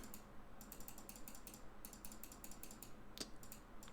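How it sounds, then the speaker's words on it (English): Rapid mechanical clicking of a button, repeated in quick irregular bursts with brief pauses, close and fairly faint, with one sharper click near the end and no talking. "Do I just have to keep clicking this button?"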